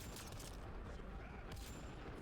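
Gunfire from outlaws in the video game Mass Effect Andromeda: a couple of muffled bursts of shots with dull booms, faint and spread across a constant rumbling battle background.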